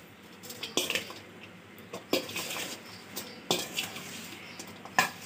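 Spices are mixed into food in a bowl for a Ramadan iftar recipe, with spaced clinks and scrapes of a spoon against the bowl, four or five bursts over a soft, moist stirring sound and no talk.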